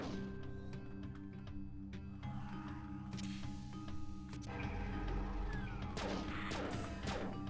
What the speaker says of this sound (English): Freaking bombs